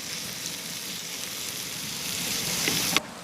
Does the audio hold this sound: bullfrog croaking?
no